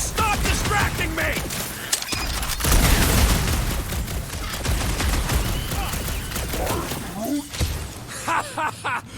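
Gunfire aimed at junk slugs in the Guardians of the Galaxy video game: dense, continuous loud shooting with clanks and impacts, sputtering into short separate bursts near the end, with characters talking over it.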